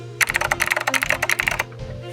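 Quick, evenly spaced clacks of typing on an ELF mechanical keyboard, close and crisp, a short burst of keystrokes that stops abruptly, with no talking over it.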